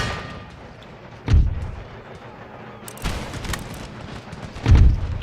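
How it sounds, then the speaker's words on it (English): Artillery fire on a battlefield in Empire: Total War, three heavy booming cannon blasts spaced a couple of seconds apart, each a deep thump with a rumbling tail, loud and fairly close. "We're hitting our own guys with our own artillery."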